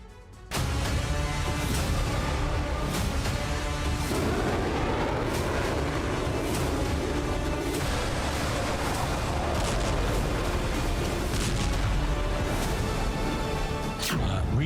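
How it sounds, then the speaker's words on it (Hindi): Explosions from US air and missile strikes in Yemen pile into a dense, continuous booming roar with rapid rumbling blasts, loud and sustained throughout with no pause. "देखिए यमन में कैसे अमेरिका ने एयर और मिसाइल ऑपरेशन को अंजाम दिया"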